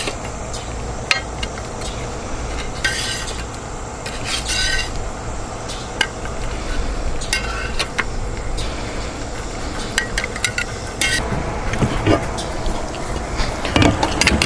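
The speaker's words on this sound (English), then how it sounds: "Throw these fries back on here like so." Fries are tossed and cooked on a Mojoe griddle: a steady sizzle runs underneath while a metal spatula scrapes and clinks against the flat top in irregular bursts, with occasional sharper taps.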